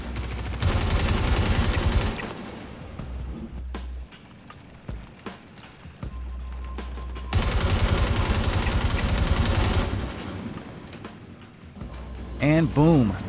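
Long sustained bursts of FS-9 LMG automatic fire at NPCs in Star Citizen, loud rapid rounds in two extended volleys with quieter gaps, scattered shots and rattles between them.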